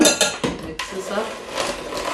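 Vanilla and other ingredients mixed in a bowl, with a run of clinking, scraping utensil strokes against the dish, loudest at the start and then settling into softer steady stirring.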